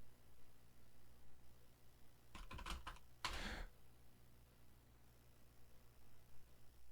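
A quick burst of computer keyboard typing, several rapid clicks followed by a louder clack, faint against a steady low hum in a quiet room.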